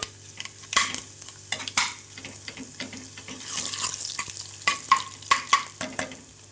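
Mustard seeds crackle and pop in hot oil with garlic chili paste for a Kathiyawadi-style corn sabji, giving a busy sizzle broken by sharp, irregular near snaps and a stirring clatter.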